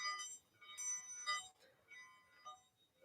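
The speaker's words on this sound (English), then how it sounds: "I sound this bell and activate our spell." A ritual bell used in a spell rings in several faint, bright tones that shimmer and decay, with small strikes and overtones layered softly across a quiet room.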